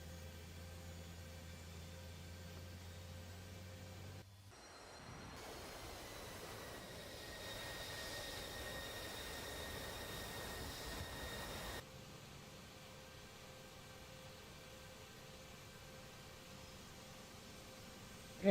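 Aircraft engine starting up in the DCS flight simulator game, a faint hum that gives way to a rising, steady rushing roar which cuts off abruptly and drops back to a low hum.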